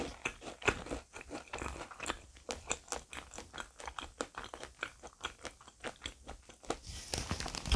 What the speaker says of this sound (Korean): 여기 먹을 때도 무화과가 아작아작 씹힙니다.